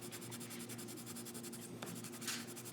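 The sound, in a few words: burnishing with a white colored pencil under firm pressure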